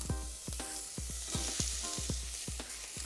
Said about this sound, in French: on va rajouter nos oignons et notre ail. On va les faire suer